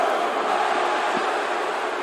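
Arena crowd at a WWE 2K wrestling event in Miami booing a taunting wrestler: a steady, dense wash of crowd noise throughout, no voices standing out above it.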